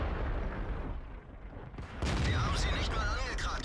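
Tank cannon shots in the World of Tanks video game: heavy, dense booming bursts over a constant rumbling engine and battle backdrop, louder and harsher in the second half.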